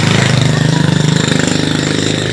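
A motorcycle engine on a village road runs loud and close, a steady throbbing putter with a fast even pulse that holds for a couple of seconds without talk.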